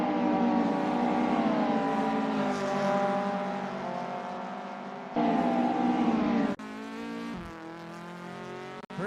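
VW Golf Mk1 race cars in a sim racing game cup race, engines droning steadily at high revs with rising and falling tones, a shift and abrupt changes in pitch as the cars push on, loud and continuous.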